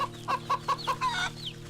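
A hen in the video game Wytchwood clucks in a quick, close series of five or six evenly spaced clucks, ending with a rising squawk over a low background hum.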